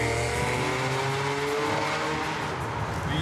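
Car speeding off fast on a ring road, engine roaring steadily with rising revs and tire noise, close and continuous, with no talk.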